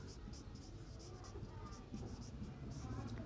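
A pen writes the name of a function by hand, giving short repeated scratchy strokes in an irregular rhythm, close and faint, with quiet background.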